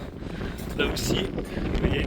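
Wind gusts buffet a storm-damaged camper van, rushing and rumbling against the microphone while a person speaks nearby.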